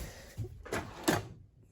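Kitchen drawers in a Crusader Lite 33BH RV sliding open and shut, three quiet wooden thumps and rolls in a near-silent room.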